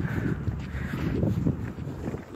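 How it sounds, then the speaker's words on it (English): Wind blows outdoors on a chilly night, a steady rushing roar buffeting the microphone with low rumbling gusts and no talking. "That wind about kills you."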